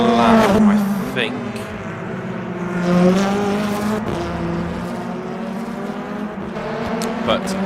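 BTCC touring cars race in the rFactor 2 game at Adelaide, engines droning and shifting pitch steadily throughout under continuous commentary.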